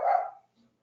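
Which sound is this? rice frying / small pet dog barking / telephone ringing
small pet dog barking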